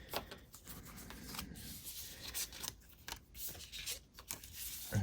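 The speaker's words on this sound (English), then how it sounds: "We'll shuffle them again." Bardsung game cards are shuffled by hand at a tabletop, soft papery riffling and rustling, faint and close, with a few small taps and handling noises.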